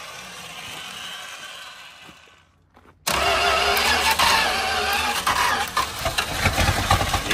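A truck with a 318 engine cranks, then catches suddenly and roars into a loud, rough, steady run after a brief quiet gap, close up.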